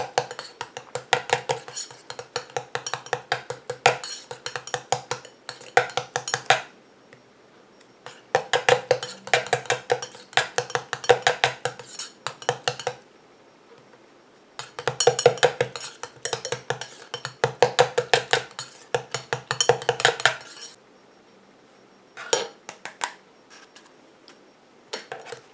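Cosmetic anti-cellulite cream being stirred in a bowl as climbing ivy extract is added, producing rapid rhythmic scraping and clinking of a utensil against the bowl in bursts separated by short pauses.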